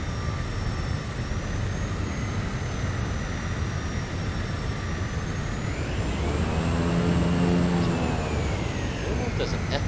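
In a flight simulator, a jet airliner's engines whine and rumble steadily as it taxis off the runway after landing, with a tonal hum shifting pitch as it turns. The noise is close and continuous, with someone talking over it.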